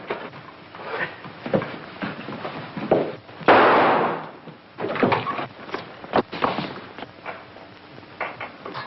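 A single sharp gunshot rings out amid a scuffle in a 1940s crime drama, loud and close, framed by scattered thumps and bumps of struggle.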